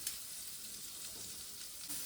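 Butter sizzling in a hot tawa for white sauce pasta, a steady low crackling hiss that stays fairly faint and even throughout, with no voices.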